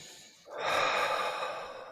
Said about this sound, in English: Inhale through the nose. And out through the mouth.